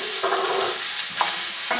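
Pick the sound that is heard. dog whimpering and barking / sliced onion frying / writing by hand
sliced onion frying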